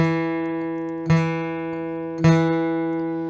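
A ringing guitar note, fourth string at the second fret, is picked repeatedly, three clear plucks about a second apart, each sustaining and slowly fading.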